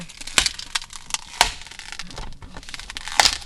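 A cracked glass screen protector being peeled off a Tesla display gives a few sharp crackles and snaps, close and quiet, spaced about a second apart.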